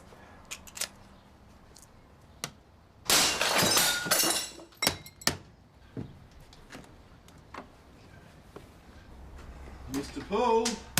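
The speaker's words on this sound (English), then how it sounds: "You could break the door down." A door is forced in, with a loud splintering crash of breaking glass and wood that is preceded and followed by scattered knocks and clatters. Brief voices come near the end.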